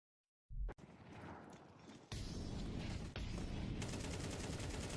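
Rapid gunfire in Counter-Strike 2 comes as dense sustained bursts, a full magazine emptied into a box, loud and close after a short opening shot.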